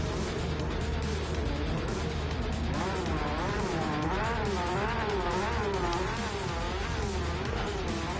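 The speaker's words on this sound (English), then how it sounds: "Engine notes rising throughout" Race car engines in Gran Turismo 7 at the Nürburgring GP, a continuous loud drone whose pitch climbs and falls in repeated waves as the car accelerates and shifts, with faint tire noise underneath and no talk.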